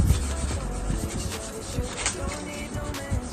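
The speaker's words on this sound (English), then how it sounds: "rub to produce heat to activate the adhesive tape" A hand briskly rubs kinesio tape applied to a shoulder, making a close, continuous scratchy friction with uneven strokes and no voices.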